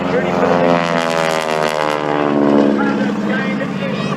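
A propeller airplane, a former crop duster now in its 70th year, drones loudly and steadily overhead at an Ohio air show, its engine tone sweeping as it passes while an announcer talks over it.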